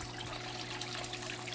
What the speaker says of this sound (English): disguise and soften the water splashing into the tank